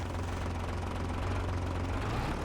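A tractor engine in Farming Simulator 22 drones steadily at a low idle, a continuous heavy rumble with no breaks that stays loud and close throughout.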